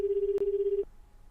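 A steady electronic phone ringtone in 428 Shibuya Scramble purrs in a continuous buzzing tone, broken by a faint click partway through, then cuts off leaving quiet background.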